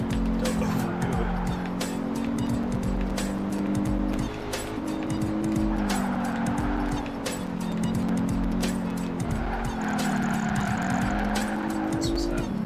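A racing car engine from Dante's Inferno drones loudly and continuously, its pitch wavering up and down as it revs, with occasional tire squeal and brief bursts of higher noise layered on top.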